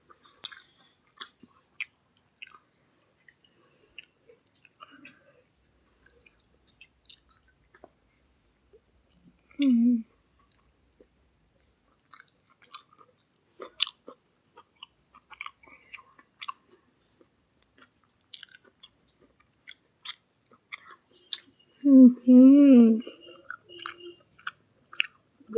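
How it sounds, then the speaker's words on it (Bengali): Soft, close chewing of biryani with potato and salad, crunchy bites scattered amid quiet, with a couple of louder bursts and some faint speech. "আমি এখন আলু দিয়ে আর স্যালাড দিয়ে খাচ্ছি।"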